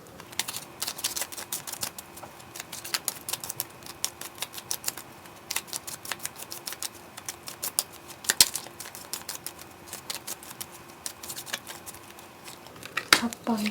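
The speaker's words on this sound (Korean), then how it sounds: "그럼 카드를 저는 섞을게요" Tarot cards shuffled by hand, a rapid run of crisp flicking and riffling taps that patters on steadily for over ten seconds at close range, with no talking over it.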